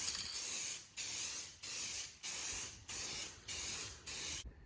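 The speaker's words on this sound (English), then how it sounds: "About to spray it black." Spray paint hisses onto a rifle in repeated bursts of about half a second, seven close, loud blasts coating it black with short pauses between them, ending on a final short spurt.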